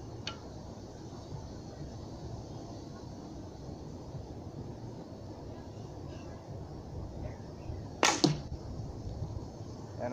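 An arrow loosed from a recurve bow at about 15 yards strikes a block target, a single sharp whoosh and thud near the end over steady background hiss.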